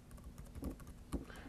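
Irregular clicks of typing on a computer keyboard come at a moderate pace, a few keystrokes landing harder than the rest, close and quiet with no talking.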